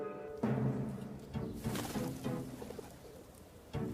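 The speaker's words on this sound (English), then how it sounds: "A set of pigeons had started roosting up in the throat of the thing" Pigeons roosting in the throat of a large horn-shaped structure make soft, throaty cooing calls that repeat in a low, rolling rhythm, heard close and fairly clear with no voices.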